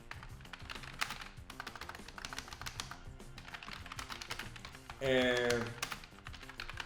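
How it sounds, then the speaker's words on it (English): A computer keyboard is typed on in quick, light, irregular clicks close by, while a person talks over part of it. "I'm actually going to just start typing on the side, even though you can't see."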